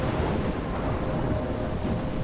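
A thunderstorm in the video game Life is Strange gives off a dense, constant roar of heavy rain and low rumbling thunder. It stays loud and steady throughout, with no voices.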